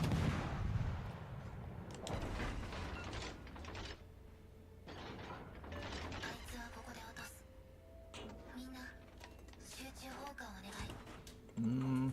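Warship guns booming in World of Warships: Legends, a run of heavy blasts and mechanical clanks with a steady game drone underneath and voices talking over the action.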